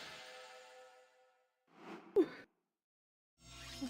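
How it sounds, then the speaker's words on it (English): A streamer yawns during a relaxed late stream, a soft breathy rise that swells and fades, followed by a brief sharp catch and quiet sigh, heard alone near the microphone between bursts of game sound. "Sorry for yawning."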